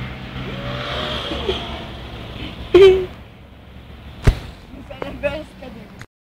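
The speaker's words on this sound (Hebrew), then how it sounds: "הנה המכונית. באים מכוניות" A car drives past nearby with brief engine and tire swooshes that rise and fade. Excited voices talk over the passing traffic.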